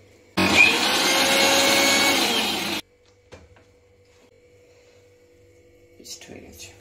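A kitchen blender whirs loudly for about two and a half seconds, grinding four mild green chillies into a paste, then stops abruptly, leaving faint clinks and handling noises.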